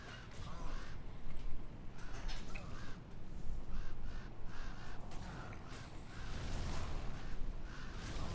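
Harsh cawing from video game ravens repeats over a dense, noisy game soundscape of whooshes and effects, the calls coming in clusters throughout.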